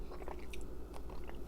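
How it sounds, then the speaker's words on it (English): Soft chewing and biting on a spoonful of baked boozy cranberry sauce with gingerbread flavour, close up, a few quiet moist crunches repeating at an irregular pace with no talk. "Now I'm gonna taste my cranberry sauce."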